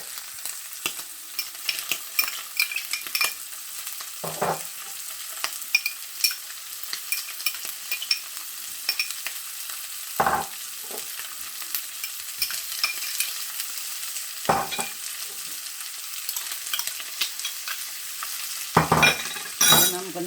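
Saltfish and added ingredients fry gently in a pan, giving a continuous crackling sizzle, with occasional scraping strokes as they are stirred every few seconds.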